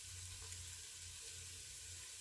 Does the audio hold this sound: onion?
yes